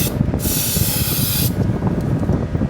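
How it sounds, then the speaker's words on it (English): Aerosol rubberized undercoating sprayed inside the front end of a Saab 900 makes a steady, close hiss lasting about a second over a constant fan-like background rumble. "Aerosol rubberized undercoating."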